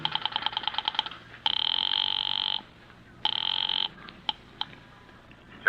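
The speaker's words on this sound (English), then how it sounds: "I went out to the switchboard and dialed the courthouse number." A telephone ringing over a line after a courthouse number is dialed from a switchboard, in an old radio drama: rapid dial clicks, then two long buzzing rings separated by a pause, followed by a few short clicks.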